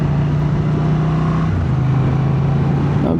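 A 2025 Honda Transalp 750 motorcycle pulling in third gear from about 30 to 50, its engine droning steadily and close with a slight pitch shift midway, under continuous wind rush.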